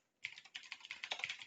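Fast typing on a computer keyboard, a dense run of light plastic key clicks starting abruptly and continuing steadily, close and clear with no voices.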